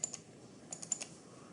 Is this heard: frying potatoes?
no